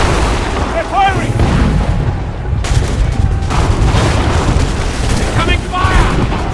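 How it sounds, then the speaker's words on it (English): Gunfire and booming blasts in an Assassin's Creed battle scene, dense and continuous with heavy low rumble, under shouted voices and clamour throughout. "They're firing!"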